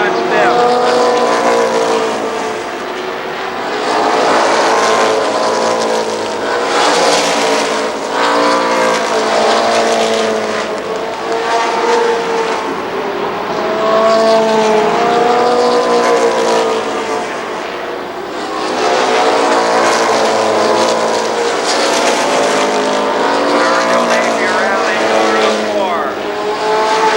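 Stock cars race at Columbus Motor Speedway during the 1996 Memorial Day Classic, a continuous loud, close engine roar that swells and fades as the pack sweeps past, with no break throughout.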